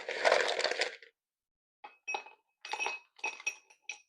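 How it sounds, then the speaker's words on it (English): Ice cubes drop into a rocks glass, giving a handful of sharp, close glassy clinks in quick bursts after an earlier short rustle. "We're also going to add ice to our rocks glass."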